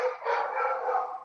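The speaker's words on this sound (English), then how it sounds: "The dogs are singing in the background." Dogs howling and yowling in a long, sustained, wavering cry. It sounds fairly close and stands alone, with no talking.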